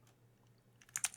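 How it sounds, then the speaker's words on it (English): Keyboard typing while entering an input action name in Unreal Engine, a short burst of several quick, light clicks near the end after a quiet stretch with a low steady hum. "I'm going to start typing in IA"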